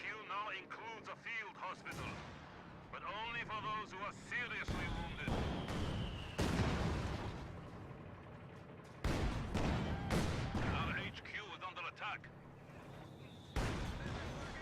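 Captured mortar firing in Company of Heroes 2, with repeated sharp booming shots and impacts spread through a dense game battle soundscape under ongoing commentary.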